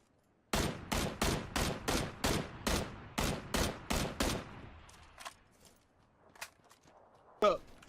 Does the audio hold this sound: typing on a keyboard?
no